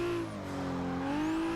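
The car engine in Forza Motorsport 6 drones at high revs through a corner with a smooth, sustained engine note. The pitch dips slightly and then climbs again, with faint tire noise, and no one speaks.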